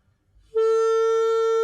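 The note A on a Nuvo DooD, a recorder-like plastic wind instrument with silicone keys, begins cleanly and holds as a steady, bright tone with strong harmonics, close and with nothing else sounding.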